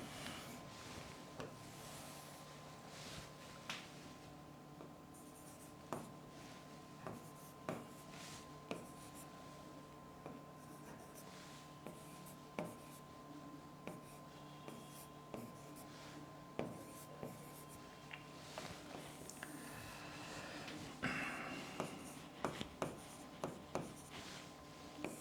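A marker or chalk scratches and taps on a classroom board in short, repeated strokes, quiet and close, with no voices between them.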